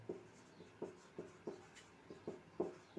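Pen scratching out notes by hand on paper during a Hindi-language economics lesson, a run of short, regular writing strokes about every half second, close and fairly quiet with no talking.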